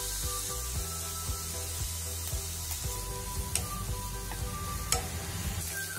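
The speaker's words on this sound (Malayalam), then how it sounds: "സവാള പോയി നന്നായി വഴന്നു വന്നിട്ടുണ്ട്." Sliced onions sauté in a hot pan with salt and turmeric, a steady close sizzle with occasional scraping stirs, continuous and fairly loud, with no voices.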